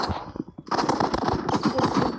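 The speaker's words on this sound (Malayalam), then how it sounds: "പിസ്റ്റൽ നല്ല രസമുണ്ട് കേട്ടോ അടിക്കാൻ." Pistol gunfire in a video game, a quick run of sharp shots over about two seconds, loud and close.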